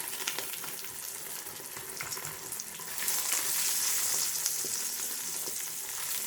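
Egg and paratha sizzle in a hot pan, a steady crackling fry that grows louder and hissier partway through as the flatbread is laid on top.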